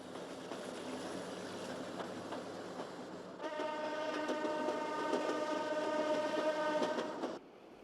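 A diesel train on the Tua railway line departs uphill from Tua station, its engine rumbling steadily before a loud sustained horn blast sounds over the running noise and then cuts off abruptly.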